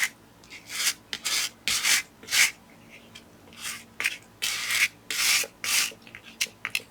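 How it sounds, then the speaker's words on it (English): Paper on a two-page winter window scrapbook layout is scraped back in short, rasping strokes, bursts of dry rubbing that repeat at an uneven pace, close and fairly loud. "So I just pretty much just scrape it back"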